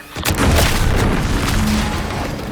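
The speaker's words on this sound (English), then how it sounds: "Was that an explosion?" A deep, booming explosion goes off in The Outer Worlds 2, a sudden heavy blast followed by a long rumbling roar that slowly fades, loud and close, with no voices over it.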